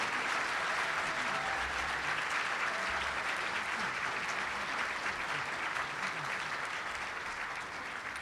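An audience at a breakfast event applauds to welcome a speaker to the stage, a dense, steady wash of clapping from many hands that holds evenly throughout without voices.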